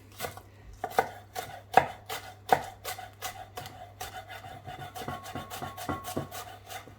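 Knife chopping green pepper on a wooden cutting board, a steady series of crisp, close taps with a few sharper louder strikes, over a low constant hum.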